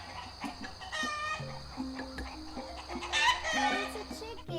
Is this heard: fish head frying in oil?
no